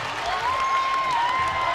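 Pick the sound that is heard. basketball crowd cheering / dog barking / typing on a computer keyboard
basketball crowd cheering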